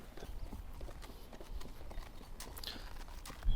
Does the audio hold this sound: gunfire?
no